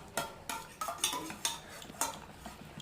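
Jalebi batter being beaten in a bowl, a utensil knocking and scraping against the sides in a steady rhythm of roughly two strokes per second, close and clear.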